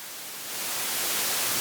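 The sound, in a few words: white noise from Erica Synths Modulator Eurorack module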